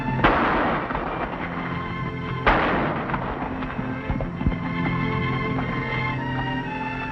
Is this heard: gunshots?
yes